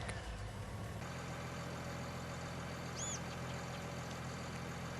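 A tractor engine idles steadily in a farming video game, a low continuous hum at constant level, with a brief higher chirp partway through and no talk.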